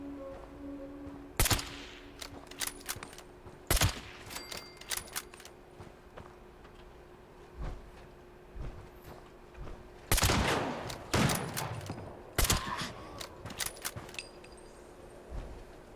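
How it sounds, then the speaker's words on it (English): Bursts of gunfire from a gun in the game Fallout 76, sharp shots in clusters and rapid volleys with short gaps between them, sounding alone without talk. "that gun sounds crazy cool"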